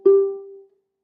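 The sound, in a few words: ukulele string picked then slid along the fret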